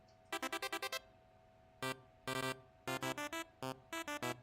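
A rapid run of short, bright electronic chimes from a chat app notification, arriving in quick bursts of six, then scattered clusters and pairs over a few seconds, clear and alone with no talk.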